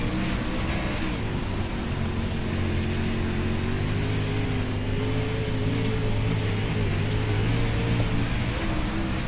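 Onboard a dirt track modified race car, the engine drones loud and steady throughout, a dense low roar with sustained harmonic tones and no pauses or speech.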